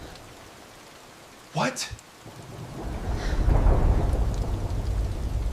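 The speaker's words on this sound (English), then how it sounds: "Storms pound the Texas prairie" A prairie thunderstorm in Texas: a brief sharp crack and rumble of thunder gives way to building rain hiss and low roar, loud and close, with a short spoken exclamation.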